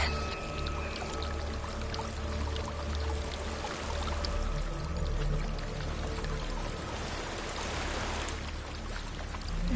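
A waterfall in the video game Hellblade: Senua's Sacrifice rushes in a steady, dense roar of pouring water that holds throughout, loud and near.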